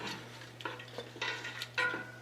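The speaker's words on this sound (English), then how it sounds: "Just want to mix this up so all these particles are covered in the molasses" Wheat germ particles being stirred into molasses in a pot over heat, several close scraping, sticky stirring strokes with faint sizzling between them, no talk.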